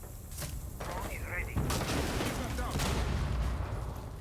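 Gunfire from a wall bang attempt in a Rainbow Six Siege esports match, a dense burst of shots at steady loudness through the whole moment, layered over a continuous game soundscape with a commentator talking underneath.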